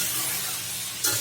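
Bottle gourd dropped into plenty of hot oil and stirred, giving a steady close sizzle with a brief louder burst of spitting near the end.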